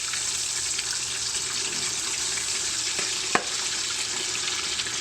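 Tofu slides into hot oil and fries with a steady, close sizzle and hiss throughout, with one brief sharp pop near the end.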